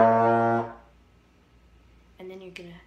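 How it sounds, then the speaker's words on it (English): A trombone sustains a steady B flat note for about half a second before it fades out, followed by a short muffled brassy tone, close and fairly loud. "So you're going to start off with the B flat."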